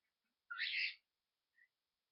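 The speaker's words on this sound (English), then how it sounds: "I think it was a hawk or something" A hawk's call rings out once as a bright, harsh screech lasting about half a second, followed by a brief faint chirp, against otherwise near silence.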